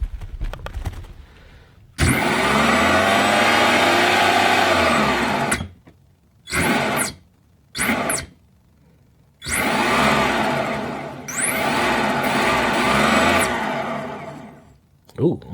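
An electric motor on a regenerative-braking controller, as used in an electric car like the Samba, whirs loudly as it is spun by hand, rising and falling in bursts with short spins between longer runs.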